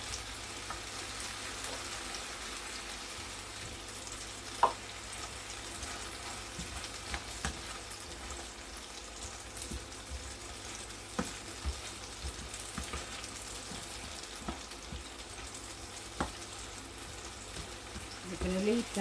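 Radish and other vegetables beginning to stir-fry in a pan, a low continuous sizzle with scattered crackles and occasional clicks over nearly twenty seconds.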